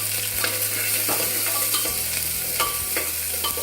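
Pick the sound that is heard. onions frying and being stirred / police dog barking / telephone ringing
onions frying and being stirred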